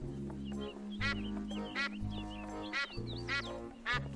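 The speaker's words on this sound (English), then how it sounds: "Oh, we have a duck." A cartoonish duck in Escape from Monkey Island quacks five times in raspy bursts about a second apart, set over steady low game music and small chirping effects.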